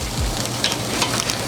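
Marinated chunks of pork al pastor sizzle in a hot pan right after being flipped, a steady close crackle with a few sharper pops and no talking.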